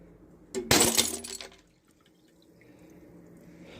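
Glass bottles shattering inside a homemade glass crusher for a sandblaster: one loud, bright crash with a burst of breaking shards, followed by quieter settling, trickling water and faint dripping.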